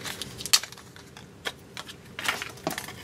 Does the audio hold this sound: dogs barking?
no